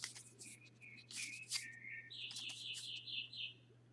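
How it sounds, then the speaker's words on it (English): Birds chirp and tweet outdoors in quick bright bursts and sustained trills, fairly close, over a steady low hum with no voices. "Our birds around here apparently forgot to go to bed."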